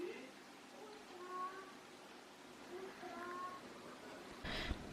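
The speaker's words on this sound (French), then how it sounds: "Il y a un petit chat là." A small cat meows several times, short faint mewing calls repeated over quiet indoor room tone, with a brief rustle near the end.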